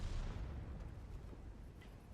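Tank cannon fire in World of Tanks on the Mines map: a heavy boom opens the moment, then its rumbling tail fades out slowly, with a faint sharp crack near the end and no voices.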